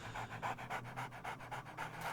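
A dog panting in the video game 7 Days to Die, quick rhythmic breaths repeating steadily and fairly faint, with no other sound.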